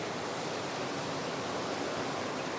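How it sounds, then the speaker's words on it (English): Water rushes steadily out through an opened waste valve on a koi pond filter, a constant loud hissing flow like a small waterfall, alone with no voices. "And while running, I will open the waste valve, and now it's rinsing the last bit out."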